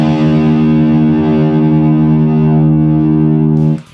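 A single distorted electric guitar note tuned to E-flat is held loud and steady with rich overtones for nearly four seconds, then cut off abruptly.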